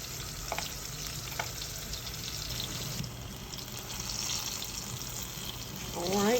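Okra frying in hot oil in a pan, being broken apart with a utensil, gives a steady loud sizzle and crackle with light scraping and stirring throughout.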